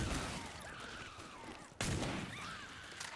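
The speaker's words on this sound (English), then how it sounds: "How does the shotgun miss? I shot him in the face with it." A shotgun blast in a video game: one sharp, loud broadband report cuts in midway through a busy game soundscape, then the background carries on at a higher level.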